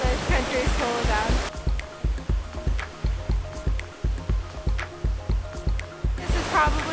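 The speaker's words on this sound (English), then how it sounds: "at the end of that is another gorgeous waterfall" A waterfall in Iceland roars as a steady, broad rush of falling water. A regular rhythmic thumping, likely wind buffeting, sits over it and voices show briefly at the start and end.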